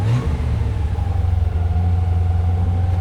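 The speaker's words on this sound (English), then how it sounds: "It's a peppy little motor too." A Jaguar engine runs steadily close by, a continuous mid-pitched hum with a slight pulsing throb throughout and no voices.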